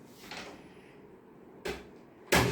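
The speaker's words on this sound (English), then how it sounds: "close the door" A door swings shut in a room: two short, sharp knocks of wood close together near the end, following a softer rustle of movement, with no voices heard.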